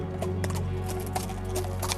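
Hooves of a fine horse bought at a market clip-clop steadily in a retold Mulan folk tale, a continuous even rhythm over a low background drone, with no talking.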